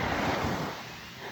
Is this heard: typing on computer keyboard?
no